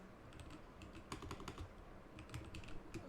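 Soft, steady typing on a computer keyboard during an Arduino relay tutorial, quiet and close, with irregular clusters of key clicks and no talking.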